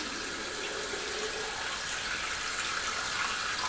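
Water running and splashing while a person wets her hair, a steady, close, broadband rush that stays even for several seconds with no talking.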